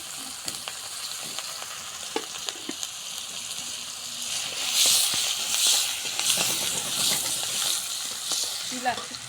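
Bay leaf, cinnamon, spices and chopped onion fry in oil left over from frying fish, a steady close sizzle and hiss that swells louder partway through, with light stirring clicks and no talking.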